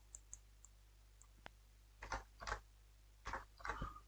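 Keyboard typing in a quiet room: a few isolated soft clicks early on, then several short bursts of rapid keystrokes, fairly close and faint over a low steady hum.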